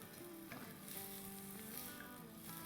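Chopped onions sautéing in a pan over a high flame, a faint, steady sizzle with soft stirring scrapes throughout, no voices.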